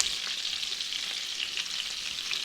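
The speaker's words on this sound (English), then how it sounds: "And once our butter gets nice and frothy, then we're gonna start basting this" Chicken thighs frying in a pan of frothy butter with thyme and garlic, a dense steady hiss that holds evenly throughout, close up with no voices.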